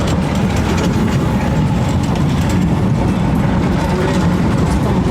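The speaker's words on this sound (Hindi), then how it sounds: "इस्तांबुल में ये ट्राम चलती है।" A tram runs along a street in Istanbul as evening falls, giving a steady, loud low rumble and rolling rail noise with broadband traffic hiss throughout, no voices.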